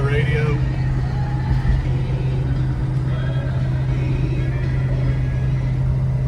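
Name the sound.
1970 Ford Mustang Boss 429 driving through the gears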